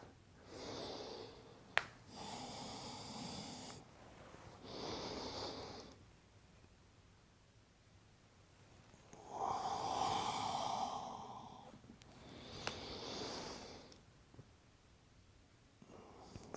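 Slow, deliberate breathing during a yoga flow, several long audible inhales and exhales spaced a few seconds apart, close and alone.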